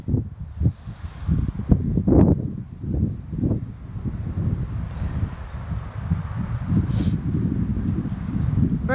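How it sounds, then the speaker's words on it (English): Outdoor wind buffeting the microphone with uneven low rumbling gusts throughout, loud and close, with a few brief rustles. No voice is heard. "I think that wind is freezing my brain."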